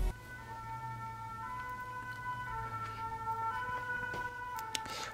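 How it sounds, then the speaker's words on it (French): A fire engine siren wails at a distance, a faint steady two-tone sound drifting under street noise as the truck passes by, heard from indoors. "Ah, il y a les pompiers."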